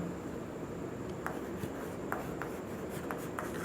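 Chalk or marker writing on a board in a classroom, faint scratchy strokes with small taps at irregular intervals over low background hiss, no voice heard.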